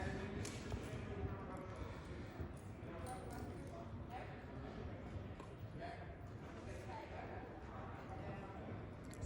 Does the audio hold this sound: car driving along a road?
no